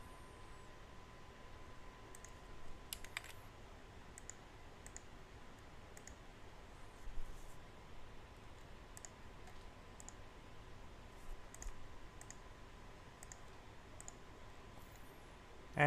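Faint, sharp computer mouse clicks come singly and in small pairs at irregular intervals over a quiet, hissy room background.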